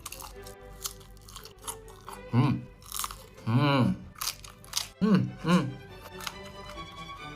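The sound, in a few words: crunchy chewing of sausage with green beans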